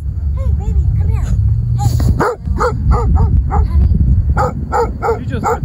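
Penny the dog barks close by in a quick, repeated run of sharp barks with some yips and whimpers, while a person talks over and between the barks.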